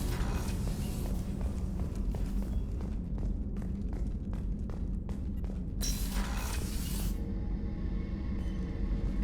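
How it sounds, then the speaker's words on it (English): Footsteps aboard the starship Normandy in Mass Effect, a regular series of firm steps on a hard deck over a low ambient hum, with a brief burst of brighter noise partway through. "I'm not used to hearing my footsteps when I walk"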